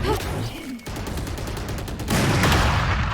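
Rapid gunfire crackles loud and close in a Valorant tournament match, a dense run of sharp shots building to a heavier, louder burst near the end, with no talk over it.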